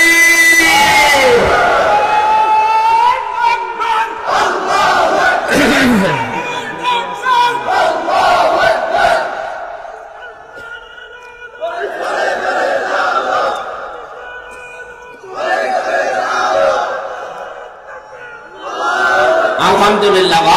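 A large crowd at an outdoor Islamic sermon gathering in Galimpur, Barura, Cumilla roars a takbir chant in unison, with several loud, close waves of shouting separated by brief lulls.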